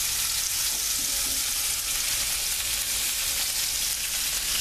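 Beef sears in hot oil in a pot, giving a steady, dense sizzle and crackle that holds evenly throughout at moderate volume, close up, with no talking over it.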